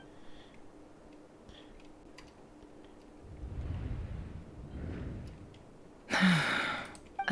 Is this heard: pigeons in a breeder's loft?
no